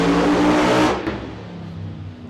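The engine of a Chevrolet Nova drag car on 275 radials revs hard up close, a loud raspy roar that cuts off and settles into a lower, rumbling idle.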